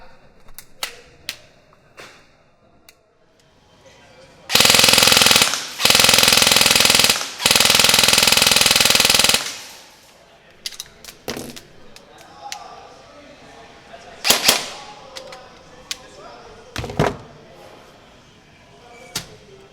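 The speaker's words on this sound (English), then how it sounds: "let's see how this thing does on full auto." Elite Force MP7 A1 AEG airsoft gun firing full auto in loud, sustained bursts, three long strings of rapid shots with short gaps, followed by scattered single impacts and clicks.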